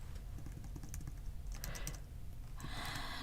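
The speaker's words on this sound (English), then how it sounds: "I am using the keyboard controls instead of my usual use the mouse to click on things" Scattered keyboard presses controlling a dungeon game, quiet clicks in irregular bursts over a constant low rumble, with a brief hiss of game sound near the end.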